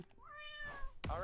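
A cat meows once in a long rising-and-falling call, close and clear, followed by a brief burst of noise at the end.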